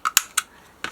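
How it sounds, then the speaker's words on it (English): A small quarter-inch corner rounder punch rounding the corners of a card, four sharp crisp clacks in quick succession, close and bright. "I think actually I'm also going to round the corners. Just with my little quarter rounder."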